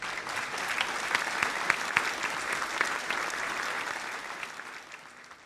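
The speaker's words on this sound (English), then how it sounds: "Let's just give it a clap." An audience at a talk on finance applauds with a steady, even patter of many hands. It holds at a moderate level for several seconds, then fades slightly toward the end.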